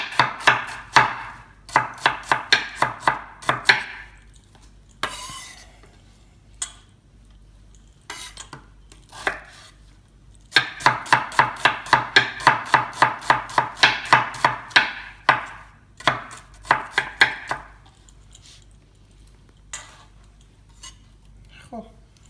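A knife chops onions on a board in quick rhythmic bursts of sharp taps, pausing between runs and then resuming fast, close and crisp with faint kitchen clinks.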